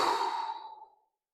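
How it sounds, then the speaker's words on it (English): A single long exhale during a guided breathing release exercise, breathy and airy, starting strong and close then tapering away to silence after about a second. "Exhale."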